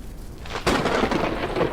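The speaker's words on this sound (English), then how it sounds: "And there goes that thunder." Thunder in the video game Forever Skies breaks out as a sudden loud crack, then a heavy rolling rumble that sustains, with a rain-like wash underneath and no talking.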